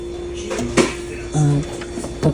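Refrigerator door in a Japanese hotel room opening with a few short thumps and a soft seal release, close by over a steady appliance hum, with a voice talking throughout.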